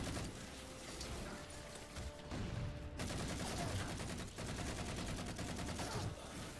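Pistol and SMG fire in the video game Halo 4, dense rapid bursts of shots filling the whole stretch, loud and near, with brief dips between volleys.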